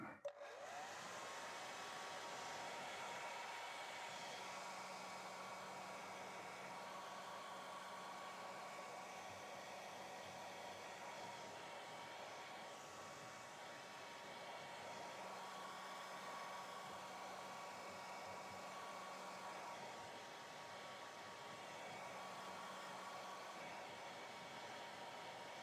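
A hair dryer blows steadily over a watercolour cityscape painting, a continuous close broadband roar lasting the whole stretch with a faint hum coming and going underneath.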